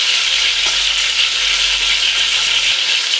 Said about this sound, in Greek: Θα ρίξω μέσα τώρα και το σκόρδο για λίγη ώρα να πάρει άρωμα το λάδι